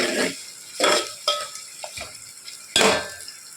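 A spoon scrapes and clatters against a pan while curry is stirred, in a few separate bursts with short pauses between them, close and fairly loud with light sizzling underneath.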